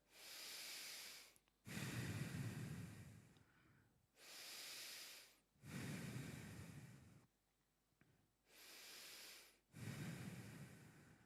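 Slow, deep belly breaths drawn in and let out through the nose in a guided relaxation, three full cycles of steady inhales and heavier exhales with short pauses between. The breathing is close and soft, with nothing else around it.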